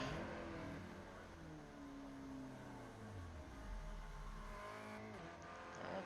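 Spec Racer Ford race cars lapping Oran Park Raceway in an iRacing online race, engines droning and shifting pitch as they brake and accelerate through corners, a steady mix of several cars heard at moderate distance without talk.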